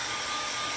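A hand-held blow dryer runs steadily at close range, blasting warm air over wet acrylic paint on a painting, a constant broadband whoosh with no talk over it.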